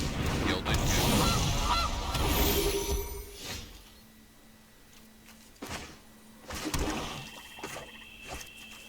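Goose honks from the Gilded Goose card in the digital card game MTG Arena, a noisy flurry of honking and flapping at first, then a few sharper honks later amid game effects.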